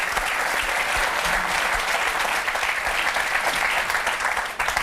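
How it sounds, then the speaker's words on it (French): Audience applause during a televised political debate on the founding of Jean-Luc Mélenchon's movement, with steady, dense clapping that holds loud and even throughout, no voices above it. "C'est quoi que vous applaudissez là"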